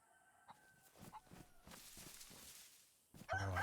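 Chicken clucking in DayZ, a series of short soft clucks close by over quiet ambience, ending in a louder burst of squawking.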